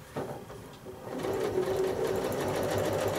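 A sewing machine stitches in the ditch on a rail fence quilt block with circles and stairs, a steady close whirring hum that starts in short bursts and then runs continuously and evenly to the end.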